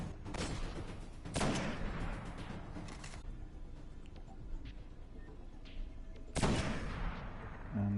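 Sniper rifle shots in the shooter game Destiny, several sharp loud reports spaced a few seconds apart over a low rumbling backdrop.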